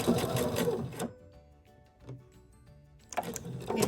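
A sewing machine stitches a seam on a fabric skateboard stuffie in two loud, close bursts of rapid mechanical whirring, separated by a quiet pause with a few faint clicks.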